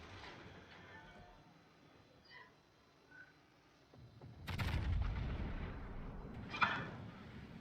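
Naval gunfire from a battleship in a video game: after a faint quiet stretch, a deep booming salvo rolls out, with another sharp crack near the end.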